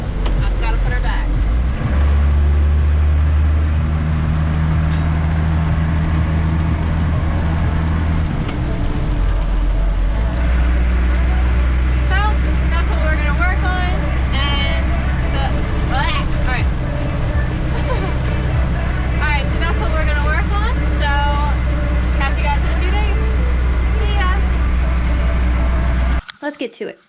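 A car cruises in fourth gear at steady speed over a bumpy road, its engine a loud continuous low drone with rattles, a voice talking over it, cutting off abruptly at the end.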